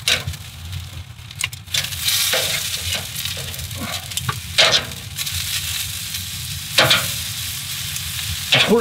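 Filet mignon steak sizzling while it cooks, a loud continuous fry hiss with bursts of sharper crackle and some clatter, no one talking.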